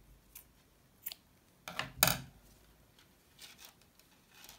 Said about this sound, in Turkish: İpi kesiyorum.